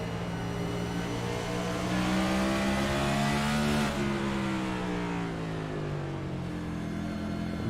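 Race car engine in a sim racing game at Road America, heard onboard as a loud, sustained high-revving drone that climbs steadily, drops sharply at a shift near midway, then keeps pulling, with no talk.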